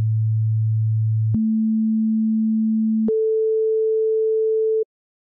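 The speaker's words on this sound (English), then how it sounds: "I have loaded here a 3x oscillator producing a single sine wave, which gets triggered by an A note in 3 octaves." A pure sine tone from the FL Studio 3x Osc oscillator playing an A note in three octaves: a steady low tone, then a higher one, then a higher one again, each held about a second and a half with a click at each change.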